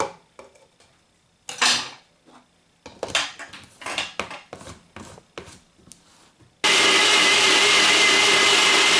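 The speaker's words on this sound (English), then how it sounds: "poured the mixture in my NutriBullet and mixed it all up" NutriBullet blender mixing Pennsylvania Dutch apple Betty batter of sugar, butter, water and eggs, preceded by clattering of dishes and utensils, then the motor kicks in with a loud, steady, continuous whir.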